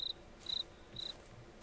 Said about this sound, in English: Oh, that cricket. That cricket was like too close.